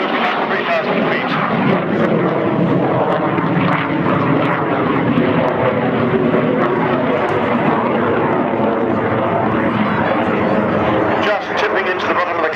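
Fixed-wing aircraft with its air brake extended flies a slow loop at about 135 mph during an RAF Cosford air show, a steady loud engine roar throughout with a commentator talking over it.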